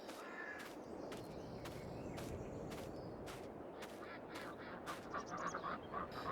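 Ducks in Farming Simulator 22 give repeated harsh, loud quacks over a dense, constant background hiss, the calls coming in irregular bursts and growing quicker toward the end.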